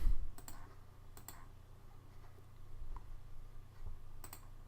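A computer mouse clicks a few times at spaced intervals, each click short, sharp and faint against a quiet low hum of room noise.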